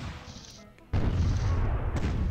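Cannon fire in the strategy game Imperialism 2: a soft muffled shot, then a heavy booming blast that rolls on loudly for over a second.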